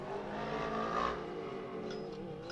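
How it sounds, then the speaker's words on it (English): Off-road race cars run steadily at close range, a continuous engine drone with a brief louder surge midway and no voices over it. "there's definitely some funny noises coming from some of these cars"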